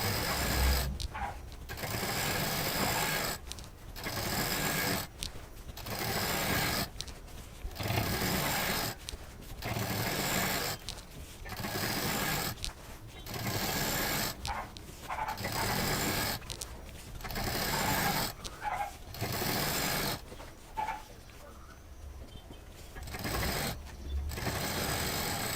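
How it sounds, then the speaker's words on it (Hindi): Sewing machine stitching scrap fabric pieces into a patchwork bedsheet, set to tension 5 with an 18 needle, running in repeated bursts of a second or two separated by short pauses, steady and close. "कपड़े को नीचे से बराबर करते जाएंगे और सिलते जाएंगे।"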